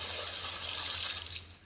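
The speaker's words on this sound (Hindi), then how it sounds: "ये जी अब पानी आ रहा है इसका" Water gushing steadily from a tap on a cattle farm, a continuous bright hiss that holds level and then tapers off at the very end.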